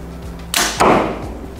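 An arrow leaves a Mathews Phase 4 compound bow with a sharp release snap, and a moment later a loud thump marks its impact in the target. Both sounds are close and stand alone, with no voices.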